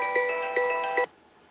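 A phone rings in a fabrication shop, a bright electronic tone pulsing three times in quick succession before cutting off abruptly, moderately close with no talking over it.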